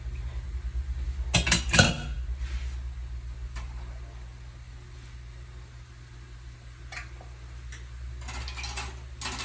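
Metal lids are twisted onto glass canning jars of fresh green beans, giving a few sharp clinks and scraping ratchet-like clicks early on, followed by sparse faint ticks over a low hum.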